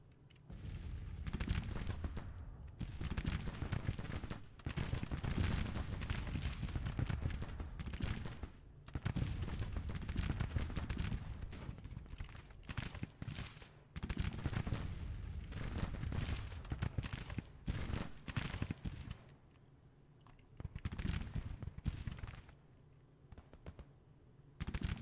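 Musket volleys and artillery fire from a Civil War battle in the Grand Tactician strategy game, sounding as repeated bursts of crackling gunfire and booms that come in dense waves with short lulls between them.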